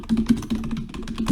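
Rapid, uneven keystrokes on a computer keyboard, close and clear, with no voices over them.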